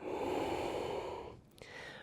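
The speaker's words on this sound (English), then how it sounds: "how deeply and mindfully can you breathe? Breathing into the right lung" Deep, slow breathing is heard during a gentle restorative yoga session: a long, steady airy breath, then a brief pause, then the next breath begins. The breaths are close and soft, and no one speaks.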